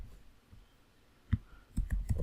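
Several sharp computer mouse clicks, a lone tap followed by a quick cluster of three or four, close and fairly soft, with no talking.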